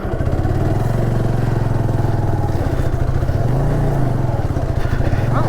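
Motorcycle engine running steadily and loudly throughout, with rumbling low drone and clattering as the bike crawls over rocky off-road forest trail in the Kalvarayan hills.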